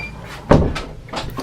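Small door, an escape hatch keeping dogs in, swung open or shut: one close, sharp knock with a short rattle, followed by lighter bumps and scuffs within a second and a half.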